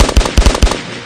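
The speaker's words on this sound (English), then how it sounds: "The canyon echoed with the booming cracks of Winchesters and the sharp, rhythmic bark of Colt Peacemaker." Western gunfire from Winchester rifles and Colt Peacemaker revolvers in a canyon ambush: four booming shots in quick rhythmic succession, loud and close, trailing into a brief echoing decay.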